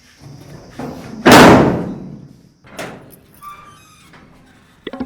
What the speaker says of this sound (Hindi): अरे अक्का बेले दरवाजा ला खटखटात रहे हो